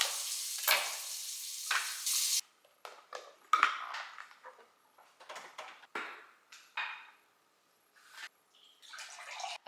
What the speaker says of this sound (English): add a little honey, stir it in with a spoon